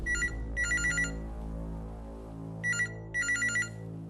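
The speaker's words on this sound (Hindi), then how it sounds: "सुल्तान का फोन" Telephone ringing in a Hindi crime drama, two pairs of bright electronic warbling bursts, loud and close, with no voices over them.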